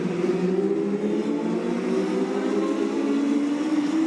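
AMS race cars running single file around a track make a steady, droning engine whine with a slowly rising pitch, loud and continuous, with no voices over it.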